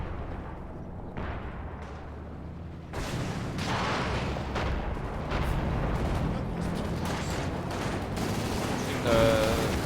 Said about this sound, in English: Yep, some rockets were fired,